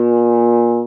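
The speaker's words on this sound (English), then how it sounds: "So B flat sounds like this." A baritone horn sustains a single low B-flat note, steady and loud with rich even harmonics, fading slightly at the very end.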